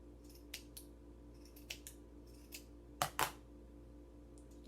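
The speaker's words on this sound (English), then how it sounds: "And now I'm going to cut the bottom" Scissors snipping through yarn loops, a few sharp close cuts spaced irregularly, with a quick double snip near the middle, in a quiet room.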